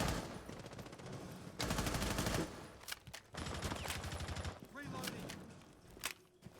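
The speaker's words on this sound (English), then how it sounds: "Just shooting through some of these windows and trying to be aggressive" Gunfire in a tactical shooter match as a player sprays bullets through windows: rapid bursts of automatic fire in several loud volleys separated by brief pauses, with a few single shots.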